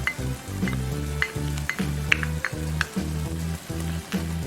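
Silkworm pupae (beondegi) boiling in a pot, with a steady bubbling, sizzling simmer and a repeating low pulsing rumble, plus occasional light clinks, close and moderately loud.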